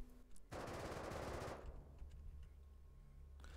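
In the video game Rust, a semi-auto rifle fires at a stone building wall in one loud, dense burst of shots lasting about a second, then fades into a short reverberant tail and quiet.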